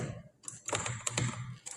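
Code being typed on a computer keyboard in short bursts of crisp, close keystrokes with brief pauses between them, no voice over the clicks.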